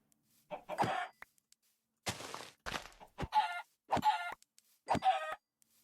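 Several short, loud chicken clucks from Minecraft, each a brief harmonic burst with gaps of silence between them, plus a couple of duller thumps mixed in. No talk.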